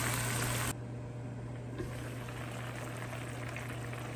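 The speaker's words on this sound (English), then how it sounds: "Let it start to come to a full roaring boil" A pot of fish stew bubbles at a rolling boil, a steady close hiss and gurgle over a constant low hum, with no voices.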